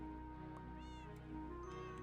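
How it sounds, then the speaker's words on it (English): Minecraft cats in a Whimsycraft world give several soft, high meows at a moderate distance over a steady droning game-music background. "And you can hear the meows"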